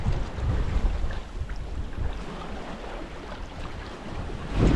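A 1,099-foot OOCL Utah cargo ship overtaking close by at sea, a steady low rumble mixed with wind buffeting the microphone and water wash, with no voices.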